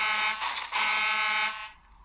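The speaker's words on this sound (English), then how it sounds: "You're right, it was a horn. But not Mavis's horn. It was Salty's horn." Salty, a diesel engine from a Thomas & Friends remake, sounds a loud, harsh two-part horn blast, a brief dip then a sustained blare that cuts off into quiet after about a second and a half.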